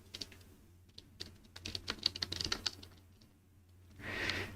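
Steady typing on a computer keyboard while writing JavaScript code, quick uneven clusters of close key clicks with short pauses, no voices.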